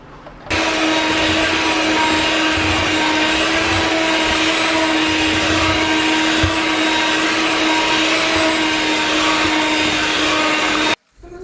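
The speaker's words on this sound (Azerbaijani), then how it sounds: "Mikserin baxın bunlarla eləyirəm" An electric hand mixer runs steadily at high speed, beating flour into dough for a cottage cheese pizza, a loud continuous whine and buzz that starts abruptly, holds for about ten seconds and cuts off.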